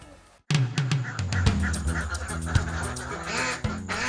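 Ducks quack in a lively flock, loud and close, with many overlapping nasal calls in a dense, uneven chatter that starts abruptly and continues without pause.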